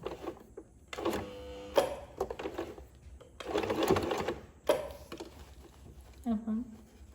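Electric sewing machine stitching a princess-cut blouse in short bursts of rapid mechanical clatter with pauses between, close by and fairly quiet.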